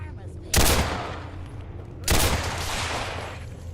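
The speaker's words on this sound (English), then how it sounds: "That was a lot of bullets." Two heavy bursts of rapid gunfire from the video game Fallout 4, each erupting suddenly and loud, then trailing off into a sustained rattling tail, with low game ambience underneath.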